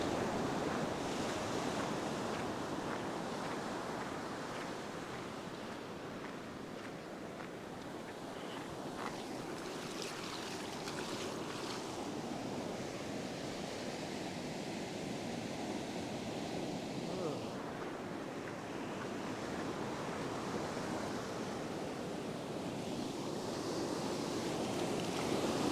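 Ocean waves break on a beach at low tide in a continuous, steady roar of surf, with wind buffeting the microphone throughout.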